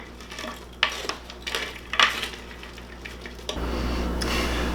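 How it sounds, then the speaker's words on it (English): Caesar salad is tossed in a bowl with a few soft, irregular clinks and rustles of utensils against the dish, fairly quiet, followed by a steadier background hiss near the end; no talking. "we'll give this a quick mix and we're all set"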